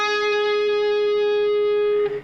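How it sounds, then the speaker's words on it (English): A single electric guitar note is picked at the 14th fret of the 3rd string and rings out clean and sustained for about two seconds before being cut off, from the verse part of a song. "what we have is the 14th fret of the 3rd string just ringing out."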